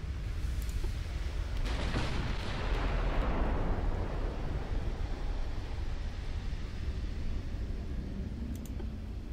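Heavy battleship gunfire from a US super battleship in the naval game Ultimate Admiral Dreadnoughts: a sustained, loud booming rumble of volleys that rolls on for the whole stretch without pause.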